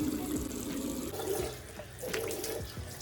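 Tap water running into a sink while a face mask is washed off, a steady close gush with small splashes and shifting flow.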